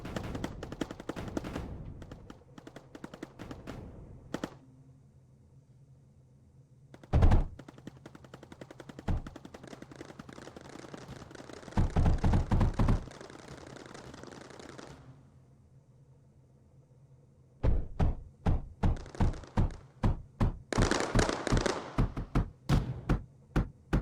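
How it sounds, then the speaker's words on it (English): A sand-shooting turret in the factory-building game Mindustry fires in rapid bursts of sharp, clattering shots, loud and close, with pauses between volleys and a quieter mechanical hum underneath. "I didn't even realize there was a turret that could shoot sand"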